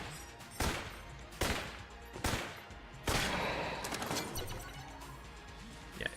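Gunfire in the video game Enter the Gungeon, four loud, sharp shots at roughly even intervals, followed by a rattling burst and steady game noise.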